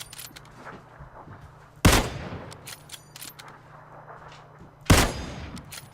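Two sharp gunshots in PlayerUnknown's Battlegrounds, about three seconds apart, each a loud crack followed by a decaying echo over faint background ambience.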